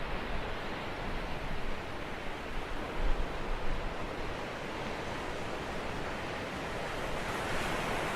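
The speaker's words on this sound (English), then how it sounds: "Can you hear that, ocean?" Ocean surf washing steadily, a broad continuous rush of waves with some wind buffeting the microphone, no voices over it.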